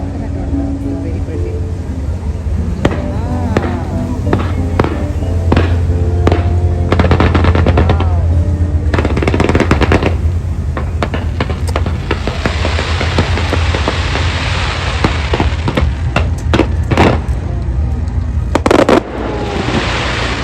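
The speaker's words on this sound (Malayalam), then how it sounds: "സോ അടുത്ത ഫയർ വർക്ക്സ് സ്റ്റാർട്ട് ചെയ്യും എന്ന് പറഞ്ഞു" A fireworks display in Singapore: loud, rapid crackling bursts and sharp pops in dense volleys, with people talking in the crowd nearby.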